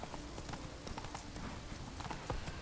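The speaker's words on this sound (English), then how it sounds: "Roach is not the best horse ever" The horse Roach trots along a road in The Witcher 3, a steady close clip-clop of hooves over a constant noisy background.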